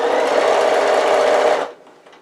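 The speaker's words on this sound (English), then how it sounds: "I'm going to stitch in the fold, the crease if you like, of the binding" A sewing machine stitches binding onto a tote bag with a single loud, close, continuous burst of rapid stitching that stops sharply after under two seconds, leaving faint handling noise. No voices.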